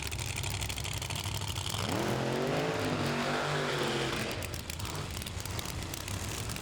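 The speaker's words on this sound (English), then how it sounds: "He's going to have to do a short burnout and hustle up to the starting line" A Pro Mod drag car at an Indianapolis drag race roars loudly throughout, its engine rising and sweeping in pitch mid-clip during a short burnout before settling into a rough, steady idle.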